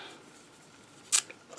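A single short snip of scissors cutting denim fabric pieces, crisp and close, with a faint follow-up snip afterward in an otherwise quiet room.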